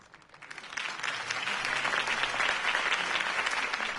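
Dense crowd applause in the video game Batman: The Telltale Series swells within the first second after a campaign speech, then holds steady and loud, a continuous wash of many hands clapping.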